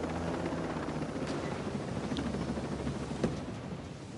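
A video game helicopter flies low over the target area with a steady, dense rotor and engine roar, a constant wash of noise that fills the clip without any speech.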